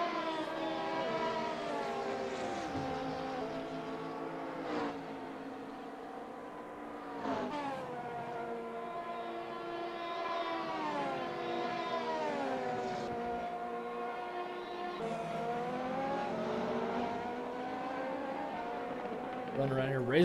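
Police car siren in a racing video game at Spa: a rising and falling wail cycling repeatedly over a steady engine drone, mid-loud throughout, with commentary talk running underneath.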